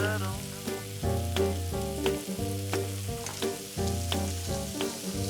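Lobster shells fry in a pan, giving a continuous close sizzle under steady background music with a regular beat.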